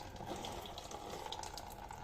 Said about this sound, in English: loosen it nicely so that the water starts flowing out